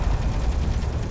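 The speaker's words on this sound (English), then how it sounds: "We've got more railguns ready, so let's get ready to fire them here." Railguns fire in the video game Space Engineers during a survival ambush, giving a short burst of dense, rumbling low thuds with faint crackling above, fairly loud and continuous.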